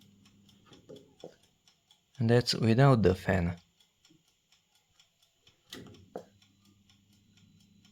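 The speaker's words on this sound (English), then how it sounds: "The clock is much noisier." The clock on a Qilive Q.5962 38-liter 1600W mini oven ticks faintly and evenly while the fan is off, and a person speaks briefly over it.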